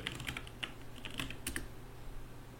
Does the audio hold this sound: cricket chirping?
no